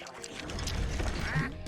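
Bird squawking in the Spyro 2: Ripto's Rage video game, a harsh duck-like quacking call rising over busy game music and effects, fairly loud, with a brief voice underneath.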